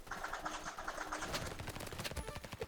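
Rapid gunfire in a video game, dense bursts of shots that grow sharper and louder toward the end, quiet overall with no talk.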